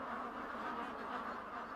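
Dense, continuous chorus of many ducks quacking together inside a barn on a commercial duck farm, a steady crowded wash of calls with no single voice standing out.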